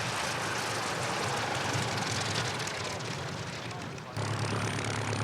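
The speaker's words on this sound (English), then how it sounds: "here comes another aircraft that is going to participate in again" A propeller aircraft flies past at an airshow of classic British aircraft, its engine a steady, loud, broadband drone that holds throughout before shifting slightly near the end, with voices faintly mixed in beneath.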